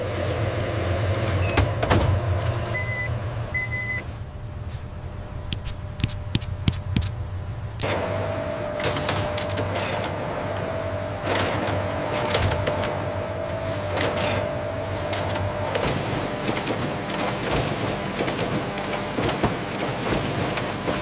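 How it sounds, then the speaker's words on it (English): Dollar bill counting machines inside a money-printing factory, a steady loud mechanical whir with rapid fluttering ticks and a few sharp clacks, running continuously throughout. "These machines count 30 bills per second."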